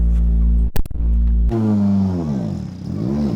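A rally car at full throttle on a forestry track during a shakedown test run roars close and loud, its engine pitch rising and falling through gear changes, with a brief clatter partway through.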